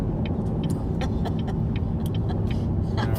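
Car moving through five o'clock rush-hour traffic, a constant low road and engine rumble with brief clicks and passing-vehicle noises scattered over it, no voices.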